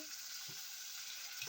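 Food browns in a small Dutch pot on a stove set to 8, giving a steady, fairly loud sizzle with faint occasional stirring bumps.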